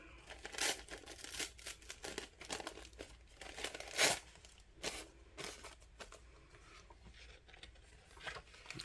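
Paper being torn by hand for a junk journal, a run of crinkling, ripping bursts of varying length with one louder tear near the middle, close up and quiet, no talking.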